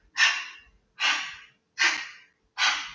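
Four steady, breathy exhalations during a Pilates twisting exercise, evenly spaced about once per second, close and clear with silence between each breath.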